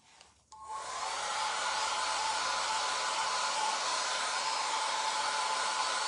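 A hair dryer switches on after a brief click and then blows in a steady, loud, unbroken whir for several seconds, with no voices.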